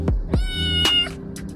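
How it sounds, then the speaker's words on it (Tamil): A domestic cat meows close up, giving a few short, clear meows in quick succession with no other sounds around them. "குறிப்பா மியாவுன்ற குரல் மனிதர்கள் கிட்ட மட்டுமே அது எழுப்புற ஒலியாம்"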